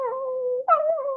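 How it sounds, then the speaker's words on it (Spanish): A dog, played as a theatre sound effect, gives a couple of drawn-out whining whimpers, close and clear with a short break between them and no other sound. "se paró al oír los gemidos de un perro"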